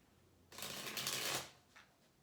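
A deck of tarot cards being shuffled, a quick close riffling burst lasting about a second, followed by a brief softer flick of handling, in an otherwise quiet room with no talking.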